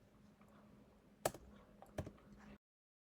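Two sharp clicks sound on a computer keyboard, like keys being pressed while card details are entered, quiet and close in an otherwise hushed room.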